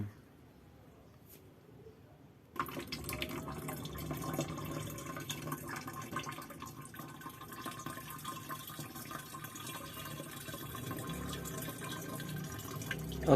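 Water poured into a container holding Jakaba mushroom culture, a steady splashing flow starting abruptly after a quiet opening and continuing near and moderately loud, with some spilling.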